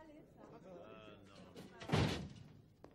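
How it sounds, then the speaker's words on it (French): A door slams shut once with a loud, heavy thud in the middle of a scene from the 1994 action film, with a voice talking just before and around the bang. "Ferme la porte."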